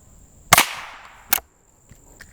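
Two sharp rifle shots from a Rossi Rio Bravo lever-action, a loud crack followed by a decaying tail and a second slightly quieter report under a second later, then faint clicks.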